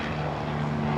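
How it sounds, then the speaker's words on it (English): Helicopter flying overhead outdoors: a continuous low rotor-and-engine drone with a steady hum, moderately loud and unbroken for the full second, no speech over it. "Oh, that's a helicopter."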